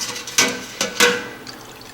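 Rendered leaf lard oil draining from the cooked pork fat and dripping into a bowl, heard as three soft, close liquid drips and plops that trail into a quiet, fading trickle.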